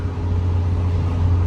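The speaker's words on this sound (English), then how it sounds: "We're driving the 20-foot U-Haul truck powered by Ford." A steady, close low engine drone and road rumble from inside a 20-foot Ford U-Haul truck with a van front end, loaded with furniture, cruising at an even pace with no talk.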